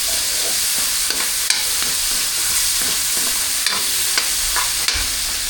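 Cabbage sautéing in a pan, with a steady sizzle and frying hiss broken by sharp clinks and scrapes of stirring, close and loud throughout.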